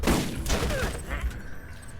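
Several heavy gunshot bursts from a weapon in Borderlands 1 boom in close succession, loud and dense, with faint background noise between volleys.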